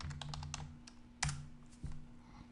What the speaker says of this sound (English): All right, we're done typing.